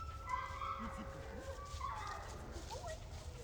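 Aries, a dog in e-collar training, gives high whimpers and short yips over steady background noise, with a person speaking nearby.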